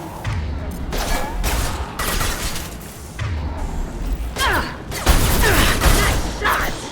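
Gunfire in Mass Effect 2, loud bursts of rapid shots in repeated volleys with short gaps, mixed with mechanical clatter and occasional heavier impacts.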